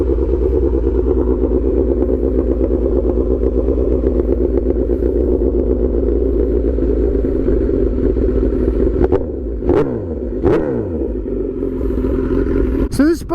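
A light older motorcycle engine runs steadily up close, a loud continuous idle rumble that carries on with little change before a few sharp blips of the throttle near the end.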